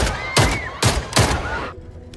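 Several gunshots crack out in a film scene, loud and close, in three or four separate bursts spaced across a couple of seconds before the sound drops away to near silence.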